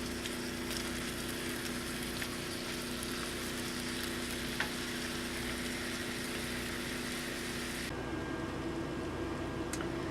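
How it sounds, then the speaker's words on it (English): A stir fry sizzles and fries in a pan in an RV kitchen, a steady hissing crackle with a faint hum beneath. It drops slightly quieter near the end, and no one speaks. "Get everything fried up."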